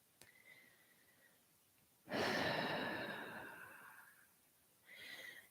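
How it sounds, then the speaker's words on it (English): A slow, deep breath during a yoga practice, a long audible exhale that fades out and is followed by the start of another breath, close and quiet with no talking. "breathing through for 5 more breaths"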